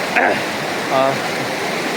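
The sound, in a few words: river water flowing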